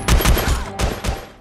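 Gunfire from the action film Hidden Strike as Owen shoots Henry and his men: a quick, loud burst of five or six sharp shots, two fast pairs then two more, close and without talk.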